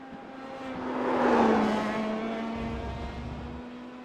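A race car driven flat out while leading a race after an earlier spin, its engine note holding steady with a slight pitch drop and a swell of broadband roar in the middle, close and continuous.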